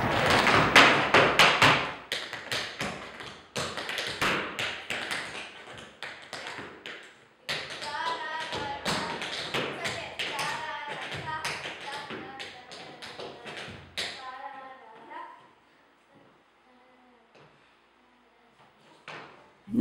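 Rhythm tap dancing footwork in a tap studio: crisp, rapid taps in fast, syncopated bursts, close and loud. A voice talks over part of it, and it fades to quiet near the end.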